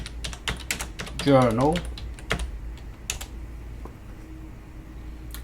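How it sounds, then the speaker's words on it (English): Quick bursts of keystrokes on a computer keyboard as a search term is entered, sharp close clicks in an uneven run, with a brief spoken word partway through and a faint hum underneath. "I'm going to type in vaccine"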